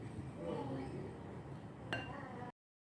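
A spoon stirs a cocoa powder mixture for brownie pie in a bowl, making soft close scraping and a sharp clink near the end, with a voice speaking faintly.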